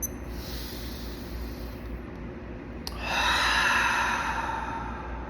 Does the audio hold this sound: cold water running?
no